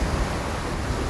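Big ocean waves and strong wind surround a sailboat at sea in a dense, steady roar of rushing water and gusting air that fills the whole moment without a break.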